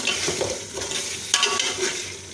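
Keema sizzles and fries in a pan while a spoon presses and stirs tomatoes into it, with steady scraping and stirring strokes over a continuous close sizzle.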